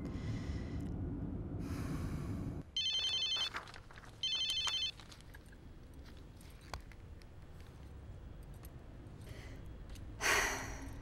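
Telephone ringing in two bright electronic bursts over a murky low background, followed by breathy sighs and a louder rustle near the end.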